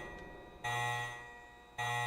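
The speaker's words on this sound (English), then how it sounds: "I can't do this yet because the alarm is going." A repeating electronic alarm tone in the video game Resident Evil Code Veronica X, sounding in two sustained bursts separated by a fading tail, with no voices.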